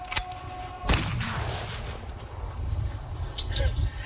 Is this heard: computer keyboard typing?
no